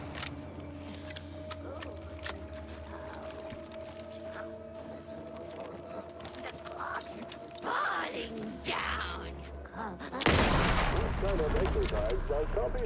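Gunshots in the horror game Alan Wake 2 pop repeatedly over a dense, droning game soundscape, with someone talking intermittently and a loud burst of noise near the end.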